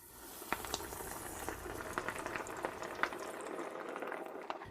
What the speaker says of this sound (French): Et ensuite, mettez-le dans l'huile ici.